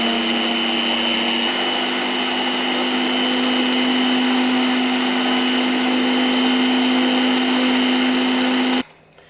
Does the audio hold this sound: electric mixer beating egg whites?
yes